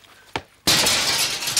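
A glass window shatters with a sudden loud crash, preceded by a short knock, then breaking shards spill and scatter for over a second, close and loud.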